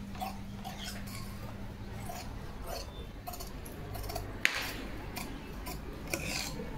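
Scissors cut through blouse fabric during tailoring of a four-tuck blouse, giving soft, intermittent snips and rubbing over a steady low hum, close and fairly quiet.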